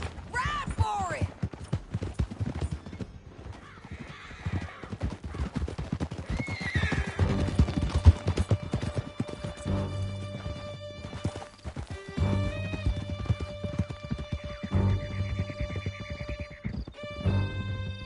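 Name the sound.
horses galloping in Red Dead Redemption 2, from a video game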